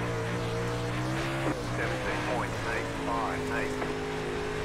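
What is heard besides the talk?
dirt late model race car engine, iRacing video game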